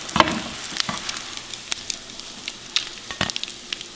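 French toast sizzles steadily in a frying pan, with a constant hiss broken by sharp pops and crackles, close and fairly loud with no voices.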